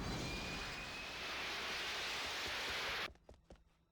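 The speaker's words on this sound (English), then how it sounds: "And there goes a jet." A jet roaring past in the video game 007: Agent Under Fire, a broad loud rushing engine noise that holds steady and then cuts off abruptly, leaving faint scattered clicks.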